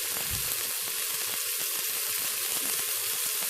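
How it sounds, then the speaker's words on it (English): A chuck roast browning in a pressure cooker: steady, dense sizzling and spitting that continues without a break, close and fairly loud, with no voices. "You want to brown all the sides of your meat and get it nice dark color."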